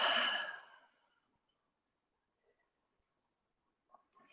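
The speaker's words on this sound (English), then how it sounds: "Exhale." A single short, breathy exhale during a core-focused toning workout. It is close and fades within a second, then near-silence follows with a few faint small noises.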